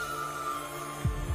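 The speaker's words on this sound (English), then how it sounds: "opening with the sound of the heartbeats" Amplified heartbeat thuds open a stadium ceremony performance, two deep low pulses arriving late over a steady humming musical drone with a sustained tone.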